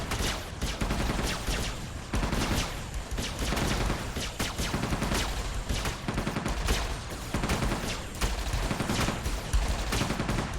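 Rapid bursts of gunfire from Entropia Universe crack in a dense, steady volley, with sharp repeated shots filling the whole stretch at a moderate level.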